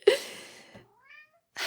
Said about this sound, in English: Hello, Caruso, he's meowing over here somewhere